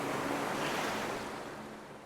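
Sea waves wash onto a white beach at Portonovo on the Conero Riviera, a steady close surf roar with a soft wind hiss, no voices.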